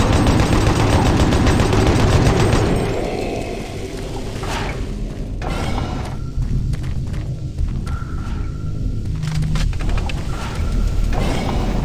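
Shotgun blasts in Doom 3 BFG Edition, several loud booming shots in quick succession with clanking and footstep-like thuds between them, no talk.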